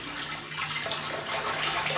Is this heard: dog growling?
no